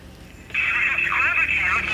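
A phone is dialed to call a spouse: a steady electronic tone starts halfway through and holds to the end, with a voice talking under it.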